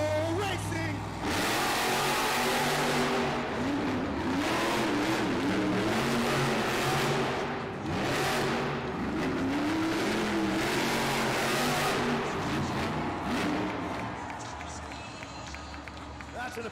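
The Zombie monster truck races around the track at an indoor Monster Jam event, its engine revving and roaring in rising and falling surges over a constant crowd din, with an announcer talking throughout.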